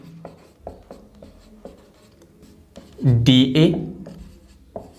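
Chalk or marker writing on a board in a physics lecture, a series of short scratchy strokes, interrupted midway by a loud burst of a man's speech.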